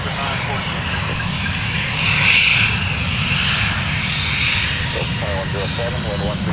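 A Delta airliner lands on runway 12 right at Minneapolis–St. Paul airport, its engines giving a loud, steady roar that swells midway, while radio voices talk over it.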